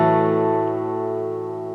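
A guitar note hammered on at the fourth fret of the fourth string, within a song's figure, rings out steadily and slowly decays, clear and unaccompanied.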